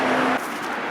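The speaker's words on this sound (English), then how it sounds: "It gets a bit noisy now because of the traffic" Steady road traffic rushes past nearby in a continuous broadband roar, with a vehicle's passing hum fading partway through.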